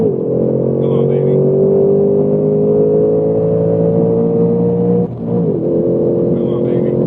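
A stock 2024 Ford Mustang S650 launches hard in a drag test, its engine roaring loud and close as revs climb steadily, dipping briefly at a shift before pulling again, with a voice speaking over it.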